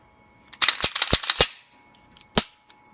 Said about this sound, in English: This is what we were shooting there, is this Glock 19